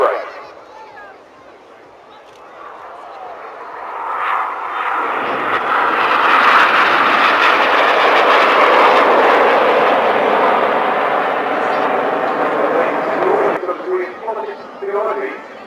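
RAF Red Arrows jets roaring overhead as they fly the Jippo break at the Bournemouth Air Festival, a loud swelling rush of jet engine noise that builds, holds for several seconds and fades, with a commentator talking over it.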